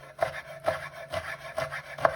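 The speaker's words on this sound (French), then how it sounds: "je vais couper le plus finement possible mes branches de bête à carne ici" A knife chopping Swiss chard stems finely on a wooden board: five evenly spaced, crisp cuts about half a second apart, close and clear with no talking.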